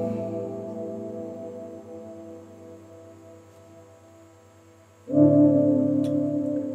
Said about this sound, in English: a track could start just like this. No drums, no vocals, nothing else.